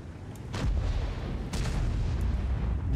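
Heavy tank guns boom in a World of Tanks battle, two deep blasts about a second apart over a constant low rumble of engines and distant fire, with faint sharper cracks between them.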